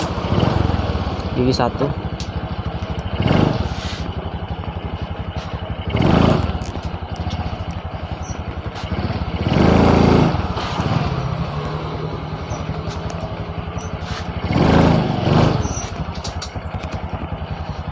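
A Honda Supra X 125 Karisma motorcycle with weak power and hesitation, idling close by under a voice and then revving in several sharp throttle blips that rise and fall at irregular intervals.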